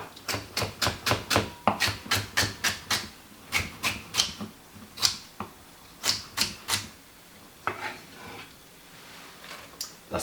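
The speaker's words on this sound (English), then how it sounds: "I'm going to be cutting up a celery" A kitchen knife chops celery on a cutting board, making a steady run of sharp, close taps with brief pauses between bursts.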